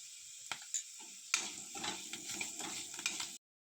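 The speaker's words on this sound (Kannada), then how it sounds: "ಎಲ್ಲ ಮಸಾಲ ಪೌಡರ್ ಹಾಗೂ ಉಪ್ಪನ್ನು ಹಾಕಿ 5 ನಿಮಿಷ ಫ್ರೈ ಮಾಡಿದ ಮೇಲೆ ಕೊತ್ತಂಬರಿಯನ್ನು ಹಾಕಿ ಚೆನ್ನಾಗಿ ಬೆರೆಸಬೇಕು" Masala powders and salt frying and being stirred in a pan for water chestnut chaat, soft continuous sizzle broken by scraping spoon strokes and small clinks, ending abruptly in silence.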